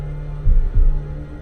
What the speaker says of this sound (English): the house is silent, except for the sound of her own heartbeat